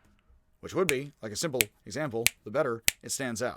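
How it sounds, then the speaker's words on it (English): A single sharp finger snap pops out partway through a man's explanatory speech, a brief click set against his continuous talking. "I've taken to the finger snap."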